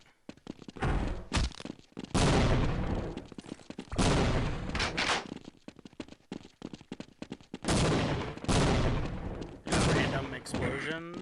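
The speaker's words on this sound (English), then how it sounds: "Random explosions." Repeated loud blasts and bursts of gunfire-like booms in clusters, separated by brief quieter gaps, from explosions in the video game Team Fortress Classic.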